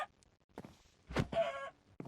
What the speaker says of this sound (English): if I just basically go near this chicken